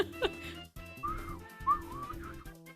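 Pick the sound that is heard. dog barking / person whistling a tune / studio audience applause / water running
person whistling a tune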